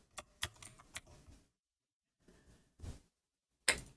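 Typing on a computer keyboard, with a short run of distinct clicking keystrokes, then a pause and a few further isolated taps, close and clear with no talking.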